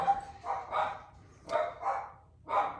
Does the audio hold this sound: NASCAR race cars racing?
no